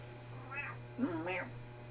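A pet cat meows two or three times up close, the drawn-out, wavering calls sounding over a steady low room hum.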